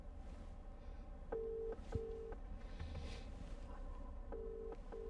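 Inside a 2020 Porsche Macan S, an outgoing phone call rings through Apple CarPlay as repeated paired electronic ring tones over steady low road and cabin hum, fairly quiet.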